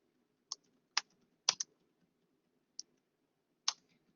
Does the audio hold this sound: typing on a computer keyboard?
yes